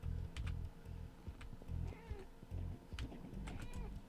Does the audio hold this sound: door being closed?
no